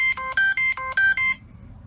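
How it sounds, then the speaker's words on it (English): A Dexcom G6 glucose monitor error alert sounds from a phone: a quick string of about six bright electronic beeps in a steady, even rhythm over roughly a second and a half, then silence. "My beautiful Dexcom G6 is reporting an error."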